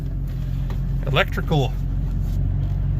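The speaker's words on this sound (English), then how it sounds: "Dad's gonna bring his truck in now" A truck with a transmission fault that drops it into limp mode idles and creeps into a garage, its low, steady engine rumble running beneath a person talking.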